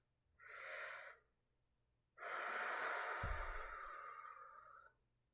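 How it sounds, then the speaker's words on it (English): Two slow, deep breaths close to the listener during a calm guided meditation: a short inhale, a pause, then a longer, fuller breath that trails off, with no talking. "I want you to take a deep breath in to ground yourself."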